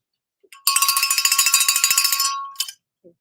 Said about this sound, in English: I'm going to ring the bell and spotlight a comment